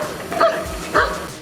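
A Belgian-breed rescue dog at a collapsed-building search training site gives two short, sharp barks close by, about half a second apart.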